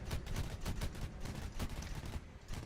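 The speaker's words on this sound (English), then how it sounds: "Fire cannon, slow us down." Rapid bursts of aircraft cannon fire from a Kfir Canard jet in a video game, a dense rattling stream of shots with brief pauses between short volleys.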